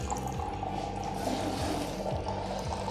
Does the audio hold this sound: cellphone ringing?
no